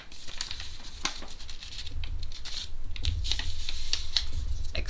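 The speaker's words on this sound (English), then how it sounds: "I'm going to fold on this A4 line right there" A paper quilt pattern is creased and folded along a printed line, giving close, dense crinkling and papery rustling with sharp little crackles throughout, heard alone with no voices.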